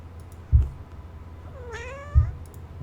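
A house cat meows once near the end, a clear rising-and-falling cry close to the microphone, between two soft thumps and light clicking.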